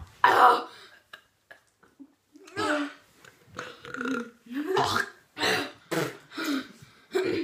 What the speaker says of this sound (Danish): Okay, næste gang jeg skal bøvse